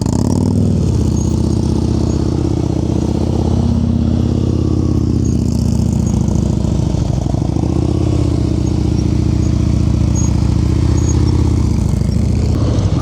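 Motorcycle engine during slow-speed riding practice in North Carolina, idling and pulsing steadily with small throttle and clutch changes, loud and close throughout.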